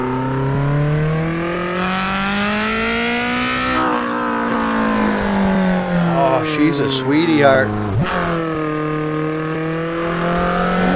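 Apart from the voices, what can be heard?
modded car engine revving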